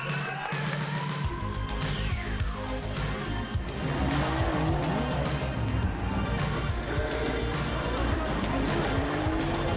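Drift cars racing at Knockhill during the 2012 British Drift Championship, with loud, continuous engine roar and tyre squeal close by that carries on without a break.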